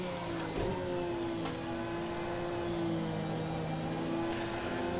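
A race car engine in Project Cars 2 holds a steady, loud drone at high revs, its pitch nearly constant with slight rises, and no voices come through.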